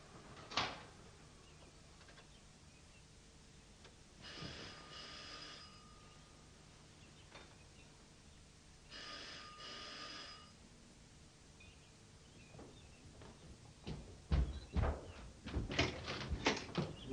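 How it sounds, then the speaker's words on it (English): A door opens in a quiet room, with a sharp click and a few knocking, latch-like sounds, two short buzzing rings, then a cluster of louder thumps and movement at the end. "Can you open the door, please?"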